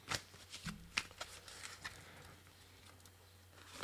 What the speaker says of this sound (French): si je fais tomber les cartes